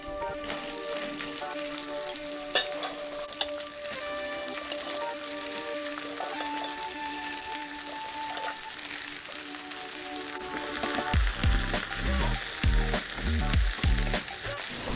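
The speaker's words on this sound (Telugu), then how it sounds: "కట్ చేసి పెట్టుకున్న చిక్కుడుకాయలు యాడ్ చేసి కాసేపు ఫ్రై చేయాలి" Chopped broad beans with onion pieces, curry leaves and rock salt fry in a hot pan with a steady loud sizzle, then rise into crackling and stirring scrapes toward the end.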